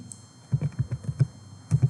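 Keys clatter on a computer keyboard in a short burst of uneven taps, a pause, then a couple more quick strokes, close up and moderate in level with no talk.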